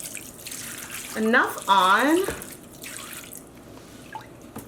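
Vinegar-laced dye water pours over a skein of yarn in a dyeing vessel, a soft steady liquid splash and trickle running under brief nearby speech.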